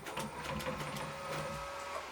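A milling machine jogging a machine tap in a home workshop gives off a low, steady mechanical whir with faint rhythmic ticking. It sounds quiet and continuous, with no talking.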